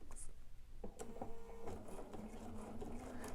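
A Bernina sewing machine fitted with jeans foot #8 and a height compensating tool stitches over bulky denim seams, a steady close mechanical whir with small knocks as the fabric feeds through.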